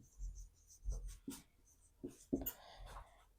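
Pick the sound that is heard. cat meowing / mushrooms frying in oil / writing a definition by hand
writing a definition by hand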